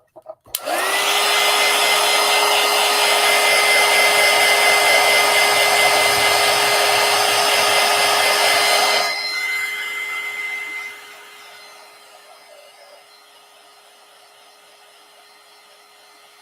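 A hair dryer blows on collage paint, switching on with a loud steady whir and a high whine that holds for several seconds, then drops to a lower setting and winds down to a faint hum.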